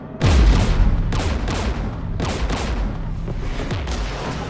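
Mass Effect 3 combat: gunfire and explosions pound in repeated heavy bursts, close and loud, with a sustained rumbling roar between the blasts.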